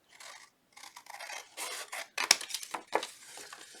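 Paper tabs backed with score tape being snipped with scissors, a few short crisp cuts and rasping rubs in close succession, near and fairly quiet with no talking.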